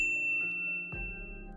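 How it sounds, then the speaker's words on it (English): A bright notification bell dinging, two clear chimes about half a second apart that ring out and decay, close and clean against silence. "ring the bell to get notified about our latest"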